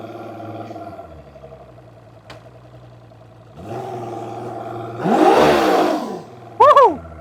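A car with a 200-horsepower motor idles with a low hum, then revs up in stages as it is shifted into drive, ending in a louder burst and a short whining squeal.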